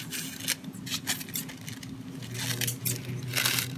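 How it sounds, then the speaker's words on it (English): Scissors snipping through paper to cut out a small heart shape, a run of close, crisp cuts and rustles with faint hum underneath. "I'm going to do a little heart right at the center, so I'm cutting roughly a square"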